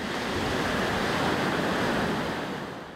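Ocean surf pounds Mermaid Beach on the Gold Coast in a continuous roaring wash of breaking waves, loud and close, with wind buffeting throughout.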